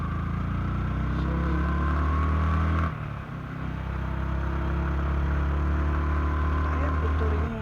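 A Yamaha R15M V4 motorcycle engine drones steadily as it climbs a hill, briefly dipping in the middle before pulling strongly again, close and continuous throughout.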